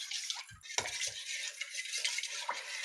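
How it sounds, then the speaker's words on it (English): A spoon scrapes and clinks in a bowl, stirring a thick, clumping cornstarch sauce for chicken stir fry, with wet swishing and a few low knocks over about three seconds, close and moderately loud. "I'm just kind of using my spoon to break it up. And just stir ever so"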